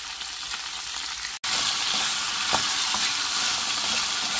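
Chopped ivy gourds sizzling steadily in a hot pan for a Telugu-style chutney, with a brief cut in the sound and soft stirring scrapes over the constant frying hiss.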